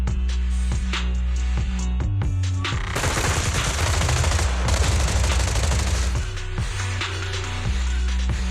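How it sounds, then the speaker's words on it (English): Suppressive marching gunfire in the video game Zenless Zone Zero: rapid automatic bursts rattle hard and loud, building into a dense sustained volley before easing into scattered shots. "Gunfire? This pattern. Suppressive marching fire."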